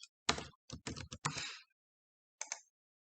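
Keys tapped on a computer keyboard while typing a spreadsheet header name, a quick burst of crisp clicks, then a pause and two final taps, close and quiet.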